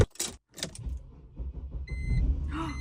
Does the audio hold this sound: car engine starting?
yes